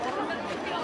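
Crowd of devotees gathered at a Shiv Mahapuran katha in Tilda, a dense murmur of many overlapping voices and chatter filling the space steadily and close by.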